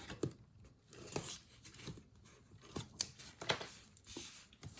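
Scissors cutting a paper strip for Halloween crafting, several crisp close snips in an uneven rhythm with quiet gaps between them.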